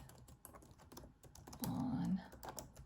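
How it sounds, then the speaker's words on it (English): Rapid, irregular clicking of keys on a computer keyboard, fairly quiet and close, with a brief murmur of voice partway through. "my typing needs some improvement"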